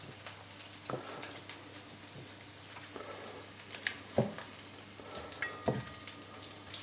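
Food coated in flour, egg and tortilla crumbs frying in oil in a pan over medium heat, a soft steady sizzle with occasional sharper clicks and pops from stirring or pieces being moved, quiet and without talk.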